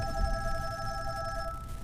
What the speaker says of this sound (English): So here we have an incoming phone call.